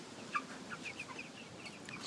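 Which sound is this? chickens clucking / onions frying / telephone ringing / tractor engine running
chickens clucking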